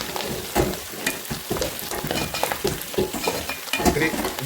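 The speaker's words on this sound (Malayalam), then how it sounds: "ഈ പന്നി തൊലി വറക്കുമ്പോൾ" Pork skin fries in a pan with steady crackling sizzle and scraping stirring, dense and close throughout.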